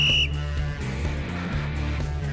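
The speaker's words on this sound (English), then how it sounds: "With a violently loud blow of his whistle, the coach also takes position to show the proper technique." A gym coach gives a short, shrill blast on a whistle that cuts off abruptly, followed by steady music playing on its own.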